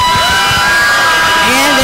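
Loud crowd at a high school varsity basketball game roars and cheers, a dense wall of voices with shouts and whoops rising above it, close and continuous throughout.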